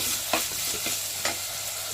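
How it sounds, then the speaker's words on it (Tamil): Onions and tomatoes sauté together in a pan with a soft, steady sizzle, broken by two brief scraping stirs near the start and middle. "ஸோ வெங்காயம் தக்காளி எல்லாம் போட்டுறாங்க. அவங்க எல்லாமே ஒன்றா போட்டு வதக்குவாங்க"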